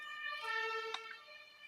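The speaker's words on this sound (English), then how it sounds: "ambulance driving by" A passing ambulance siren sounds faintly in the distance with a steady wailing tone, heard alone at low level.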